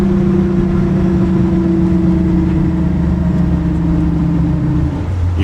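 A car decelerating with an odd droning noise, a steady close-up engine hum with a tonal whine that holds level and then drops slightly in pitch toward the end, heard alone.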